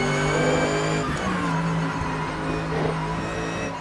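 Mercer V8 race car engine in Assetto Corsa, lapping the foggy Nordschleife: a loud, steady harmonic engine drone close up, pitch shifting through a gear change midway, with no talk.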